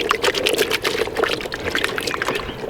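DNA S7 hydro liquid is poured into carp bait, giving a close, steady splashing and trickling with many small bursts of liquid. The pouring carries on throughout with no talking.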